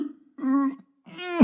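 A voice imitates a donkey's cough: two drawn-out, throaty rasps, the second ending in a rough, gravelly burst, close and clear with a short pause between them.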